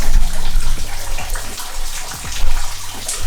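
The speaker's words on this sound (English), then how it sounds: "when we use the sink, the ceiling pisses on us" Water leaking through the ceiling of a 120-year-old house while the sink runs, a loud, close, continuous rushing splash with low rumbling underneath.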